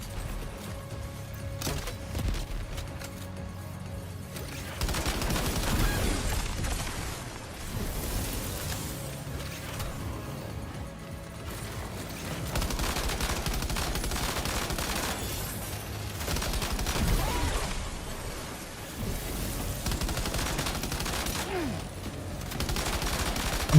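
Sustained gunfire rattles through a Death Stranding 2 firefight, bursts of automatic shots and blasts overlapping with booms, continuous and loud with no pause.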